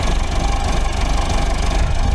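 A snowblower engine runs steadily at close range, a continuous low, rough drone of even loudness throughout, clearing wet, packing snow.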